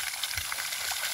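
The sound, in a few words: pure water flowing out from borehole pipe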